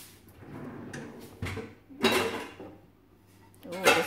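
A non-stick fry pan comes out from a cupboard under a dishwasher with soft scrapes, knocks and clanks of cookware. The sounds are close and moderately loud, with a sharper metallic clatter near the end.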